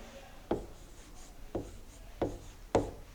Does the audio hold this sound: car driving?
no